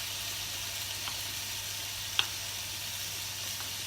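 Vegetarian stir-fry sizzles in a hot wok, a steady close hiss with a couple of faint clicks and no talking.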